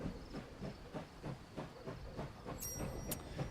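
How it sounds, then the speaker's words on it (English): A train in the game Last Train Home chugging along with regular rhythmic steam puffs and a soft hiss, steady and moderate in level, with a couple of faint high metallic squeals near the end. "And now we keep the train moving."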